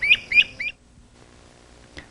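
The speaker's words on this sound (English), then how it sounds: "the voice of the crested flycatcher calls from the treetops" A great crested flycatcher calls from treetops, three quick bright whistled notes in a rapid burst, then quiet with a single faint note shortly after.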